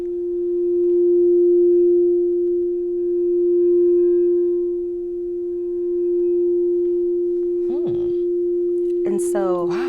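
Sound therapy tone on the F note for the heart chakra, a loud, pure sustained pitch with slow swells in volume, joined near the end by brief voices.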